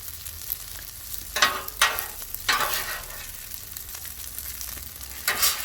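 Chicken fried rice sizzling on a hot griddle with salt, pepper and garlic, a steady close frying hiss broken by several brief louder bursts as the rice is stirred and scraped.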